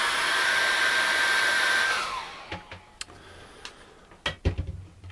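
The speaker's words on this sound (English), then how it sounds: "I'm going to dry that off with a hairdryer" Hair dryer blowing steadily and loud over acrylic paint for about two seconds, then switched off and winding down, followed by scattered light taps and clicks in a quiet room.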